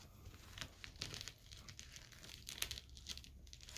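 Paper being folded and creased by hand into a scale for a dragon wreath, a soft, close crinkling and rustling with a few brighter crackles, quiet and continuous, no talk.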